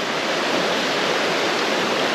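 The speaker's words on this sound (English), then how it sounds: "this was the first kind of hut where the river is flowing from under the hut" A river rushes out from under a wooden hiking hut in Oulanka National Park on the Karhunkierros Trail, a loud, steady broadband roar close by with no voices.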